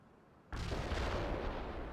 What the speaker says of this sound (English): Target pinpointed. Commence artillery fire.